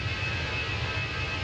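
An Airbus A320's jet engines roar inside the cabin in Microsoft Flight Simulator, a steady broadband rumble with a thin constant whine above it. The sound is continuous and even, and no one speaks.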